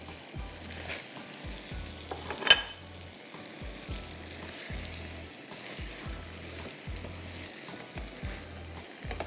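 Marinated shrimp frying over high heat with vegetables, giving a steady close sizzle with occasional stirring scrapes and one sharp clatter, no voices heard.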